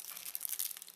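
A small plastic bag crinkles and rustles as it is handled, a brief close crackling burst with no talking.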